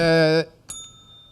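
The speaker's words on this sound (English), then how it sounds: "The bell's working a lot better." A bell rings once with a bright, sustained tone that cuts off abruptly, followed by a short metallic tap and a faint lingering high ring.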